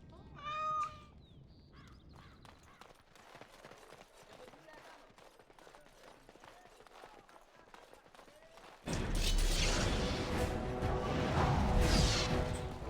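A cat meows several times in a Spanish-language playthrough of Dragon Age: Origins - Awakening, the brief mews near the start followed by game ambience and a loud, sustained burst of combat noise toward the end.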